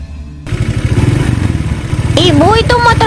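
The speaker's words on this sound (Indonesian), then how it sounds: "itu motor Bu Darmi berisik banget sih" A noisy motorcycle belonging to a neighbour runs steadily nearby, a loud, rough mid-pitched engine drone with clattering pulses that continues throughout while a voice talks over it toward the end.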